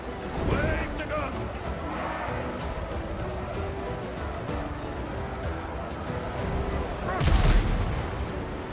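Ship cannons and guns firing in a naval battle game, booming shots and crackling fire throughout, with a big heavy blast near the end, mixed with voices and game noise.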